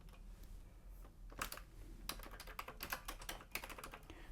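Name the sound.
typing on repaired Commodore 64 keyboard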